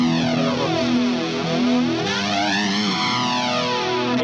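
Electric guitar played through the Mesa Boogie amp model of a NUX MG30 multi-effects unit gives a sustained, distorted chord tone, thick and loud, with swirling modulation sweeping through it.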